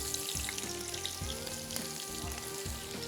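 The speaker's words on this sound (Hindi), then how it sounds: "इसमें शामिल करेंगे प्याज।" Onions go into a pot for chicken qorma biryani, giving a steady, close sizzle with soft clanks of a spoon stirring throughout; no voices.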